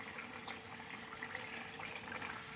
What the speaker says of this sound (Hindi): ये जो चावल थे ना, अगेन हम इसको वॉश करने लगे हैं ताकि ये साफ़ सुथरे अच्छी तरीके से वॉश हो जाएं।